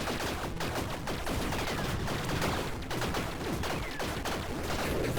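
Rapid volleys of gunfire crackle continuously from homing shots in the video game Tiny Rogues, dense overlapping bursts sustained at a steady loud level throughout.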